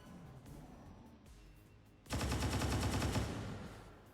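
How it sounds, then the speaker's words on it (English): Heavy automatic gunfire in XCOM 2 Long War of the Chosen, a dense loud burst of rapid shots that starts abruptly partway through and runs for about two seconds after a quieter stretch. "Oh, he's shooting. Heavy fire."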